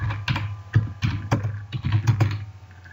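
Close-up typing on a computer keyboard: a quick, irregular run of crisp key clicks over about three seconds, with no talking.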